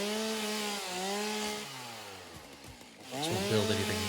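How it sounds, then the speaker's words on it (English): Chainsaw cutting wood in the video game Satisfactory: a loud, steady buzzing engine whose pitch sags under load, dips low near the end, then revs back up, heard close and alone. "hearing a chainsaw is very enjoyable"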